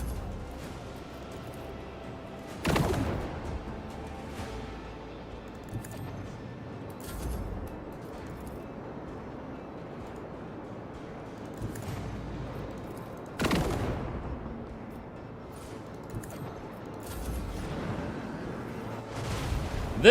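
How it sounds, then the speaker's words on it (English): Macro cannon fire in Rogue Trader lands as a few sharp, loud blasts spaced several seconds apart over a low, quiet rumble of space combat. "The macro cannon sings."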